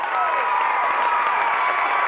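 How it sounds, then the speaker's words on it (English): A basketball crowd at a 1990-91 boys' state playoff game roars in protest of a walking call, a dense, steady wall of shouting and jeering voices held at full volume throughout. "Crowd over here protests the call"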